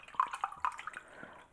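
Homemade kombucha trickles into a glass in a short, faint pour, with a few light splashy drips standing out over a soft liquid stream.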